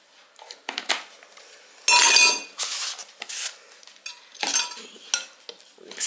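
Baking powder being stirred into a batter in a bowl, heard as several bursts of spoon scraping and clinking against the bowl with brief pauses between, fairly close and loud.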